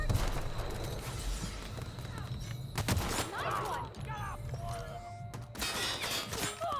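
Gunfire in The Outer Worlds during a firefight, with sharp shattering bursts and thuds over a steady low rumble of game ambience, while a player talks over the action.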